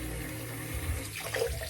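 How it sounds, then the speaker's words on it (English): Hot water runs steadily from a bathroom tap into a sink during a straight razor shave, a continuous broadband hiss and splash with a slight swell near the end, no voices. "I'm gonna run some more hot water"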